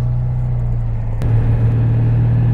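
A Burton car cruising a small country road, a steady low engine hum with a brief click partway through, the drone holding even and close throughout, no talk.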